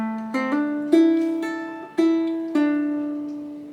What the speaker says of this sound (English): on the C string you could also do it, and it sounds like this.